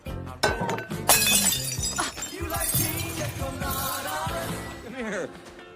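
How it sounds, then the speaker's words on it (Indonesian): A drinking glass shatters in a film scene, with a sharp crash of breaking glass near the one-second mark and jingling fragments, all set amid a busy soundtrack with voices and other noise. "Billy tak sengaja memecahkan gelas"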